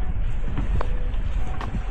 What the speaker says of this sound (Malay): Hebat angin dia, siul